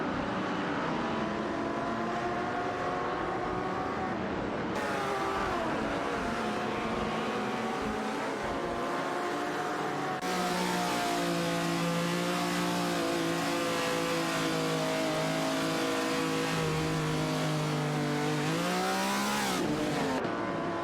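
Engines of race cars in a racing video game drone and rev steadily as they drive around the track, pitches rising and falling through shifts, continuous and close without any talk.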